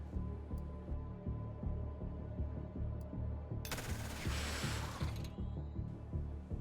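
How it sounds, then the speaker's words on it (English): Suppressing gunfire in the tactical game Xenonauts 2: a steady, rhythmic rattle of automatic fire runs throughout, with a loud, dense burst in the middle before the repeated pulsing returns. "Suppressing fire."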